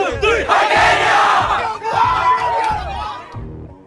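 Large crowd at a high school rally cheering and yelling loudly together, a sustained roar of voices with chanted bursts that swell and fade over a few seconds.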